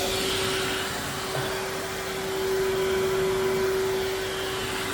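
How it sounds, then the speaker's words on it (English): A vacuum cleaner hoovers up brushed-out debris and bits, a loud steady motor roar with a constant whine running throughout, no one talking. "I'm going to hoover out all the bits here now"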